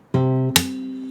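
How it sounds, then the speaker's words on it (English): Acoustic guitar in a fingerstyle lesson: the low bass note on the sixth string, third fret, is plucked and rings, then a sharp percussive slap and mute cuts it, leaving a softer ringing tail, close and alone. "You play the note and then slap and mute."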